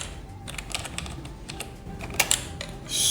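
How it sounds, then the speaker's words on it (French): Someone types a command at a computer keyboard, a run of quick, close key clicks with uneven rhythm, a few sharper louder strokes near the end and a final burst of noise. "vous allez retourner au niveau de l'invite de commande et vous allez taper cette commande-ci"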